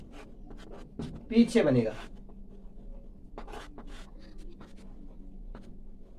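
Chalk or marker strokes on a board, a short burst of scratchy writing near the start followed by lighter taps, heard close while someone speaks Hindi over it.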